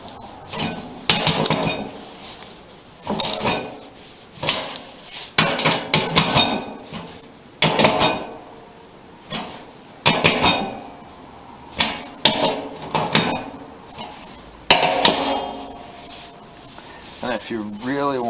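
A wrench tightening the nuts on a VW bus fuel sending unit: repeated metallic clicks and taps in short bursts, each turn followed by a brief pause, with someone talking close by in between.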